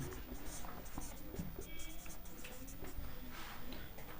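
Pen writing math notes on paper, a continuous scratchy scribbling with short strokes and pauses, close and fairly quiet, with a voice talking over it.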